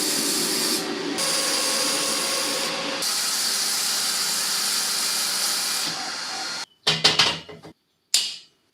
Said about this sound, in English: I'm going to grind over it and then recut the groove